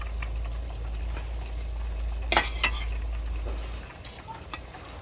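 Potato curry is served from a pot while cooking for a Phagwah celebration. A low hum from the stove sits under a few short metallic scrapes and clinks of a spoon against the pot, with no talking.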